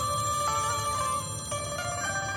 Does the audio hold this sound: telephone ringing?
yes